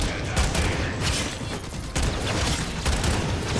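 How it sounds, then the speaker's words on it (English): A gun sword fires in the video game Warframe amid a dense, continuous wash of loud gunfire and combat noise, with a rapid stream of shots and a few stronger bursts, and no speech. "It's a little tricky to use this gun sword"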